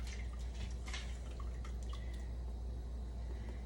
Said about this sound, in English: it holds all the pasta inside of the pasta maker, and it just drains right out into your sink